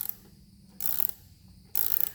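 A spring compressor is cranked on a Miata coilover spring, giving two short, close ratcheting bursts separated by a quiet pause.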